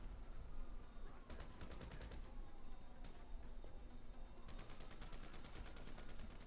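Gunfire at cops in GTA Online's Doomsday Heist: rapid bursts of automatic shots rattle in clusters over a constant noisy game background, moderately distant and somewhat masked.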